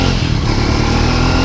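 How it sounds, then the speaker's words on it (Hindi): A motorcycle engine runs loud and close as the bike is ridden on the road, a steady, rough, throbbing drone throughout the short stretch, with no talking. "मज़ा आएगा बाइक को चलाने में"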